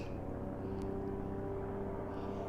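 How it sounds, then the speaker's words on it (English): A broad steady low drone of an aeroplane passing overhead, constant and unbroken throughout, with no voices over it. "I've got a lovely droning aeroplane overhead at the moment"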